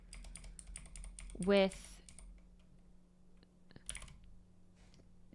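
Someone types on a computer keyboard in quick, light clicking bursts, close by and quiet, while a person talks over the keystrokes.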